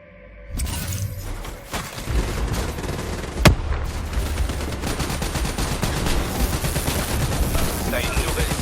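Gunfire in the video game Call of Duty Black Ops III: dense rapid shots and bursts crackle continuously, with a sharp loud crack partway through, amid game combat noise and some talk.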